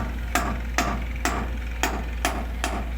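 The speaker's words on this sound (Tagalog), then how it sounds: "itong ginagawa namin na nilalagyan ng pako, ito poste, para hindi lang malaglag yung semento" Nails being hammered into a wooden post to hold cement: six sharp, evenly spaced hammer strikes at a steady rhythm, close and distinct over a low background hum.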